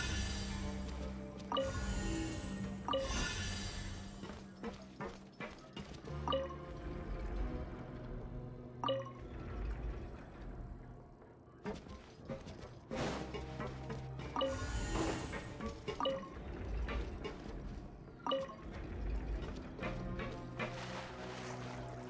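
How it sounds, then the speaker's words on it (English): Water level rising in a Genshin Impact puzzle room, with low churning and gurgling water, dripping and sloshing accents, and a mechanical rumble, all moderately quiet and continuous without speech. "The water level's gone way up"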